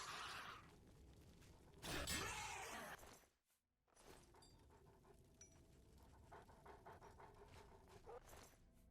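Dog panting in the video game Oblivion, quick rhythmic breaths heard faintly amid game effects, with a brief shattering burst early on and a short silent gap midway.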